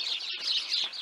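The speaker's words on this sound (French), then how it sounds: "Donc on entend les petits oiseaux." Small birds chirp and tweet in a village, a quick run of high, bright calls close by and alone, with no talking.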